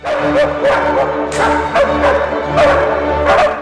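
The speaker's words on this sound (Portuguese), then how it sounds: "Sofus, Cookie e Sika latiram com a orquestra da Câmara Dinamarquesa" Several dogs bark and yip in short bursts over a sustained orchestral background of strings and horns, loud and fairly close, performing a Leopold Mozart piece with the Danish Chamber Orchestra.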